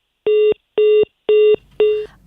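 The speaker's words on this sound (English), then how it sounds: "Unfortunately, we just lost Ivy Setoji there on the phone lines." Four identical phone-line beeps sound at a steady rhythm as a call drops on a live midday news broadcast, loud and close, with the last tone trailing off into faint line noise.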